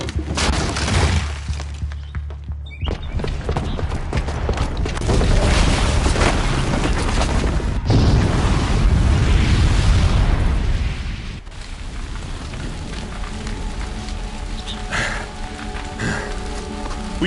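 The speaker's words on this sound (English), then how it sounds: "the booby trap on the bomb downstairs is gonna get set off" A bomb blast in a video game, a booby trap going off downstairs, gives a loud booming roar with rain-like crackle and debris that holds for several seconds, then eases into a rumbling, rattling aftermath.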